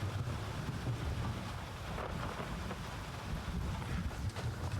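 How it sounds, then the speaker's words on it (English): Thunderstorm in the video game Gray Zone Warfare: a steady low rumble with wind and rain noise, constant and fairly faint throughout, with no clear thunder crack and no talking. "I don't think I've ever played while there's been a thunderstorm like this"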